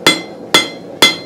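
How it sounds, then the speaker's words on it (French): A hammer strikes three times to mark a rivet hole in a workshop piece, each blow sharp, ringing and close, evenly spaced about half a second apart. "on descend notre marteau."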